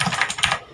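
Quick, crisp clicky keystrokes on an HP GK100 mechanical keyboard with Otemu Blue switches, typed in a fast, uneven rhythm and picked up from close by.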